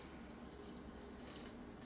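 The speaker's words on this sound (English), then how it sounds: "I'm going to start by adding in the water" Barely warm water runs in a steady, faint trickle into a bowl for rustic loaf dough, an even wash of sound with no distinct drops and no speech.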